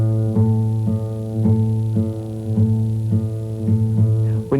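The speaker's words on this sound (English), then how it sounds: "To tune the 6th string, put your finger on the 6th string in the 5th fret, and that should sound the same as the 5th string open." Acoustic guitar tuning check: the sixth string fretted at the fifth fret alternates with the open fifth string. About eight close, clear plucked notes ring out evenly at a steady rhythm, each one sustaining warmly with no voices.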